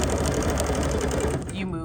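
A domestic sewing machine runs steadily and fast, stitching a quilt seam with a continuous mechanical whir and rapid needle clatter that eases off near the end.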